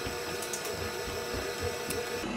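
A stand mixer kneads bread dough for kaiser rolls, its motor giving a steady unbroken whir with a faint rhythmic knock.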